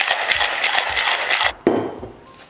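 Cocktail shaker full of ice and mixer shaken hard in rapid, steady rattling bursts for about a second and a half, then a sharp knock and a brief softer rattle as the shaking stops.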